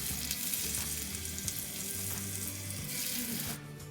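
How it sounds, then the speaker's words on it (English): Yorkshire pudding batter poured into hot dishes sizzles and crackles continuously, a close, bright frying hiss with small bubbling pops, fading abruptly at the end. "You should hear a sizzling noise as you pour the mixture."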